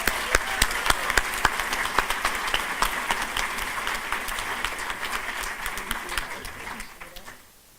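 A graduation commencement audience applauds to welcome a speaker to the podium. Steady, dense clapping from a large crowd keeps going for several seconds with a few sharper claps, then fades out toward the end.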